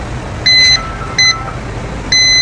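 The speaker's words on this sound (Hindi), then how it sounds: "मीटर बीप कर रहा है" A multimeter in continuity mode beeps while a probe tests a pin on an iPhone 16 Pro Max board: three short, loud electronic beeps at irregular intervals over faint background hum.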